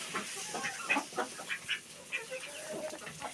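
Chickens cluck in their coop, a busy series of short, close calls and soft chatter in irregular bursts, with no talk.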